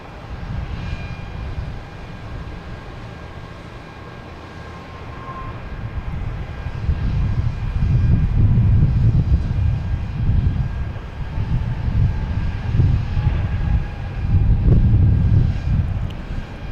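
Airliner landing at Boston Logan Airport, a broad engine roar heard from outside with wind buffeting, swelling louder in surging waves through the second half, no voices.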